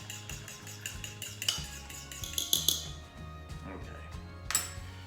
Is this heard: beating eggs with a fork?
yes